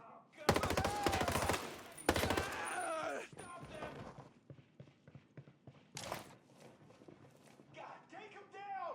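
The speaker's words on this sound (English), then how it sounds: "Pretty fast fire rate and a very high muzzle velocity bullet travel." Rapid assault-rifle bursts in Ghost Recon Breakpoint, loud dense volleys in two long strings, then sparser shots and distant gunfire with talk over the top.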